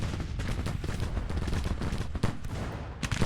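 Skirmishers' rifle fire in the GTCW Union career mode, a dense spread of crackling shots, some near and sharp, others distant, overlapping in a continuous irregular fusillade.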